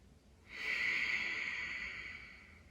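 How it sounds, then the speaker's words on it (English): A long, steady exhaled breath through the mouth, starting after a brief quiet moment and fading slowly, close and airy, taken as a deep breath while lying in a restorative yoga position; no one talks. "We're going to start just by taking a few deep breaths here."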